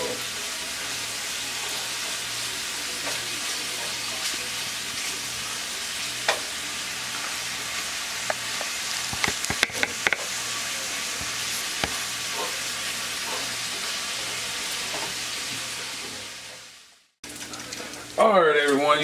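Pork bacon frying in a pan, a steady dense sizzle and crackle throughout with occasional pops and stirring clicks, close and continuous before a brief cut near the end.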